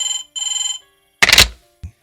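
A room telephone rings in two bright electronic bursts, followed by a short clatter and a thump as if the receiver is picked up.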